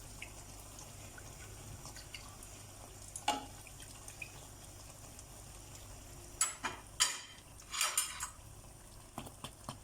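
Banana puri pastry quick-frying in hot oil, a faint, steady bubbling sizzle with a few louder clattering bursts of utensil contact near the end.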